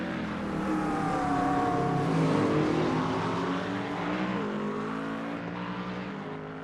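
McLaren 720S GT3 and Mustang race cars in the iRacing sim at Oran Park, engines droning loudly and steadily with shifting pitch as they accelerate through a turn, without any talk.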